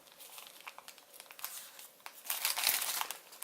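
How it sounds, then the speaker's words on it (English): Paper for an origami cactus crinkles and rustles close up as it is folded and creased, a run of uneven crackling bursts that grows louder toward the end, with no voices. "we're just going to fold this edge over"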